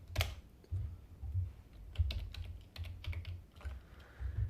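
Computer keyboard keys clicking in quick irregular bursts while code is written for a Unity augmented reality project, close and fairly quiet, with short pauses between clusters of keystrokes.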